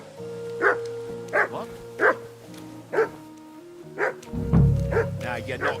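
Dog barks from Kingdom Come: Deliverance 2, a medieval open-world game, come in a run of sharp, evenly spaced yelps at mid distance, set against steady game music and a low rumble near the end.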